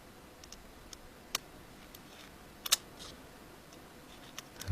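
Small screw being unscrewed inside an iPhone 5 during a screen repair, faint sparse clicks and ticks of the screwdriver over quiet background, with a couple of sharper taps.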